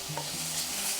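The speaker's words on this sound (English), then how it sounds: "Next, add the shredded ginger root and stir-fry until aromatic." Shredded ginger root and pork stir-fry in a hot pan, a steady broad sizzle with scraping stir strokes over it, close and continuous throughout.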